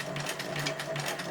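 A sewing machine stitches a rope eye, its needle running in a steady, fast mechanical chatter with a continuous whirring hum, close and uninterrupted.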